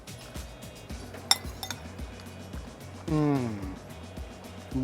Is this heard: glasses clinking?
yes